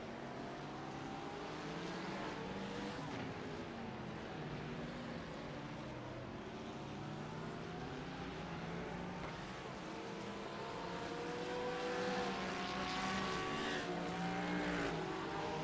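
AMG race cars drive at Okayama in the sim racing game iRacing, several engines droning and rising in pitch through gear changes, a continuous layered roar that swells louder toward the end.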